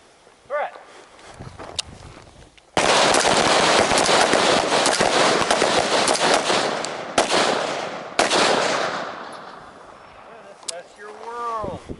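Rifle or carbine shots from a close-range shooting drill, a dense burst of loud cracks filling most of the stretch, separated by brief quieter gaps, with a voice heard faintly between volleys.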